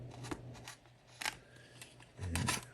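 Scissors snip through the cardboard and plastic packaging of a collectible Fashion Classics Emily Barbie-clone doll box. There are several quiet, close cuts with soft rustling between the snips.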